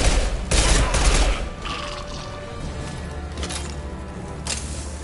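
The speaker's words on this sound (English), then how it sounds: "Firing an impact shot." Impact shot weapon firing in Mass Effect 2, a loud blast followed by crashing, mechanical clatter and scattered gunfire in a game fight.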